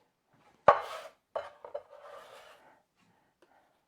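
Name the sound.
chopping onion with a Mac chef's knife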